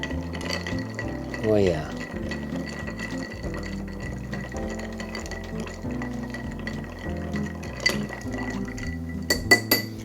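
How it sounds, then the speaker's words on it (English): Ice clinks and rattles in a mixing glass as an Angel Face cocktail is stirred, a steady close jangle running under music and a brief spoken aside. "you just want to stir it up until it's nice and cold"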